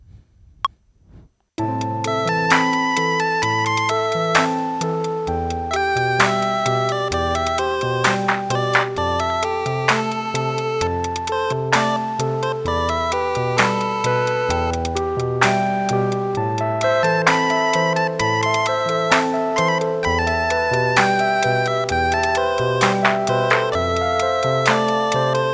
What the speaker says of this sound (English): So I stumbled across this clap preset while I was browsing. So I'm gonna add that in to the part I just recorded now.